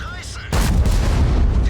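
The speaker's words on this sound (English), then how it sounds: "And yet again, we're hit by artillery." An artillery shell strikes a tank in World of Tanks: a sudden loud, heavy boom and a blast of noise that roars on for over a second after a brief quiet lead-in.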